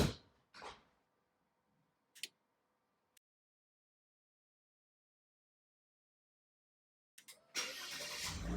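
A car's engine is cranked with a start button: a brief whir and a few sharp clicks come first, then a long silence, then the engine catches and settles into a steady close running hum.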